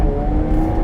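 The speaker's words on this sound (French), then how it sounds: "Vous allez entendre un petit peu le son de la voiture" A car's engine hums steadily from inside while driving, a loud low drone with faint tonal whine and no voices over it.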